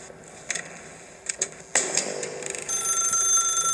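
A telephone ringing in the video game The Stanley Parable, a shrill electronic ring that starts after a few clicks and thumps and holds steady and loud to the end.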